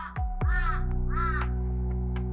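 Harsh crow-like caws of the mythical Stymphalian birds ring out in quick repeated calls over a steady low droning hum, loud and close, with no talking.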